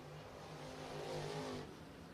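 Race cars on a speedway track, a faint, distant engine drone that swells briefly as a car passes and then fades, heard without talk.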